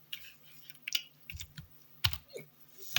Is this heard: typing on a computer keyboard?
yes